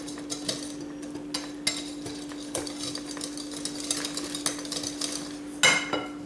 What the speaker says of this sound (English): Start mixing that together a little bit